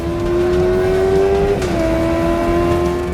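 Motorbikes race close behind a large truck on the road, a steady loud engine drone holding one pitch that dips slightly midway, continuous with no voices.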